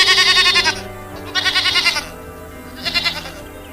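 Goats bleating while grazing under a tree, three loud wavering bleats in a row with short pauses between them, close by and with no talk.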